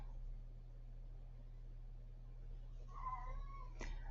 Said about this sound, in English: my cat's narrating with me